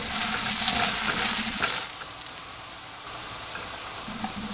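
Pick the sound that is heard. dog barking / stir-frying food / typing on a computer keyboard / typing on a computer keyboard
stir-frying food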